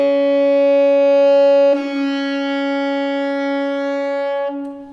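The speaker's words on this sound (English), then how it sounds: "we're going to alternate between the regular B flat fingering and the low B flat fundamental." A single B flat held at one steady pitch, alternating between the regular fingering and the low B flat fundamental, its tone colour changing abruptly once partway through before fading away.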